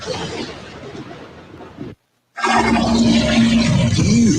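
A toilet flushes in a radio advert: a loud rushing swirl of water, broken by a brief silent gap, then resuming with a rising whistle of refilling over a strong rush.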